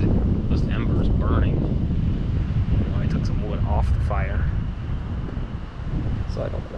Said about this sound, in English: This wind just keeps those embers burning.